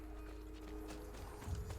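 Horse hooves clip-clop softly in Assassin's Creed 2, a faint irregular trotting under a steady low game ambience and tonal hum, with a slightly heavier thump near the end.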